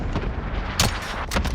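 Gunshots sharply crack in a shooter video game, with two or three loud, close reports standing out from a low rumbling game backdrop with no talking.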